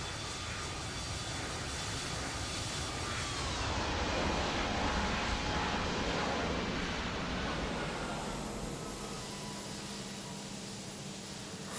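A simulated Toliss A320neo airliner lands in X-Plane 12 in a crosswind, its jet engines producing a loud, steady broadband roar that swells midway and then eases while whining tones drift and shift.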